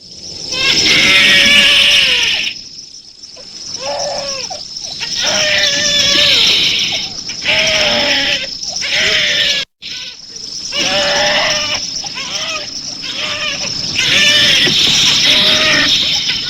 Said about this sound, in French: il faut qu'il s'arrête de crier